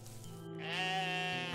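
A single drawn-out ram's bleat from the video game OneShot, rising into a wavering, nasal cry that holds for about a second, close and clear with no talking over it.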